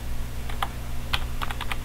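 A few crisp computer keyboard keystrokes, including a press of the Enter key, sound close by over a steady low hum with no talking.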